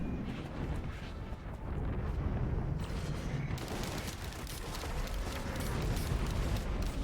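Steady, dense gunfire from the Commando in Risk of Rain 2 roars continuously across a wide open space, with a loud wash of shots and explosions that never lets up.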